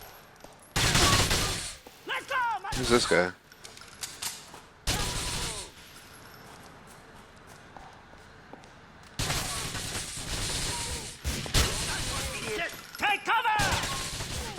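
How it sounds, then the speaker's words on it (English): Bursts of video game gunfire in Grand Theft Auto IV, rapid automatic volleys in several loud clusters separated by quieter stretches, with a voice speaking in between. "Alright, who's shooting me?"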